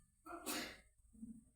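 One sudden sneeze bursts out in a quiet classroom lecture, sharp and breathy, followed by a faint murmur.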